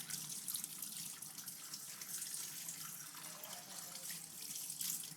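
Running tap water splashing over a Superman toy at a sink, a steady close gush and spatter with no talking.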